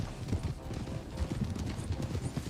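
Horse hooves clip-clop at a steady trot in the Red Dead video game, a continuous rhythmic patter under a dense, noisy game background, with no talk.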